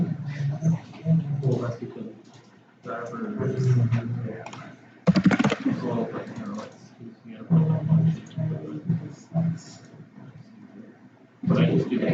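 Computer keyboard typing comes in bursts of rapid clicking separated by short pauses, with a person talking in between and over the keystrokes.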